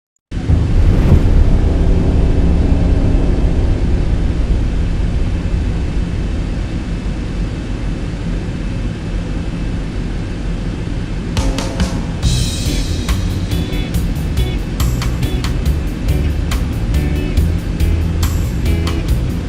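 A Boeing P-8 Poseidon landing in the X-Plane 11 flight simulator, with a continuous loud engine roar followed by a run of sharp rattling clicks and bumps as the aircraft touches down and rolls out.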